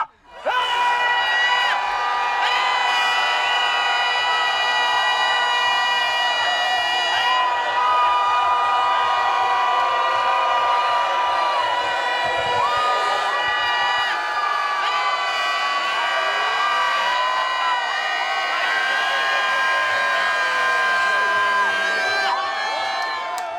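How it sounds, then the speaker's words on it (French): A large outdoor festival crowd of adults and children screams and whoops together without a break for a long stretch, loud and close, with whistles and high cries rising out of the sustained roar. "on va tous crier ensemble pendant 1 minute"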